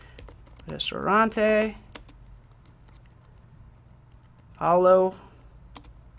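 Keystrokes on a computer keyboard as a webpage title is typed, a light, irregular clicking running beneath a person's short bursts of speech.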